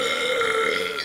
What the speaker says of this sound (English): still burps like a root beer.